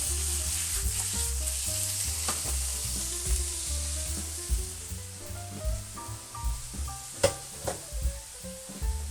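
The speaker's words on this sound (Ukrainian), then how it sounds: "Далі додаємо нашу курку, смажимо її окремо." Chicken sizzles and spits in a hot pan, with a utensil stirring and scraping now and then, close and steady, no talking.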